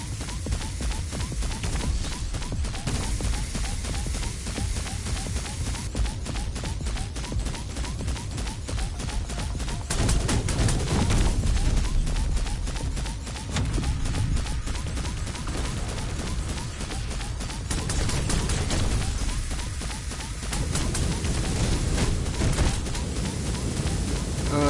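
Gunfire in the VR shooter VR Invaders: dense, continuous bursts of rapid shots and blasts running throughout, loud and busy with a few heavier swells, no clear talk over it.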